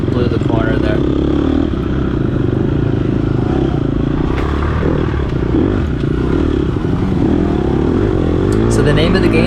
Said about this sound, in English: You can hear that chain chatter, so I'm braking